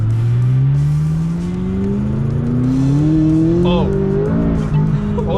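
Gas sports car at full throttle, engine note climbing steadily in pitch as it accelerates hard, loud and close from inside the cabin, with a brief tire squeal and a voice exclaiming near the end.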